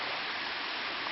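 Steady, full rush of water from a fountain and a stream flowing toward a lake beside a bridge, a dense continuous splashing hiss with no breaks.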